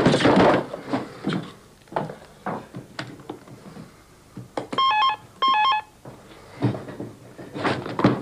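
Two short bursts of electronic telephone ringing break out in a quiet room between scattered knocks and handling noises, close and clear, with brief muffled sounds of people around them.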